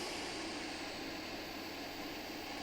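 Simulated RC jet plane making a low pass in the game Aerofly RC, a steady, faint turbine whoosh and roar holding even throughout, with no talking.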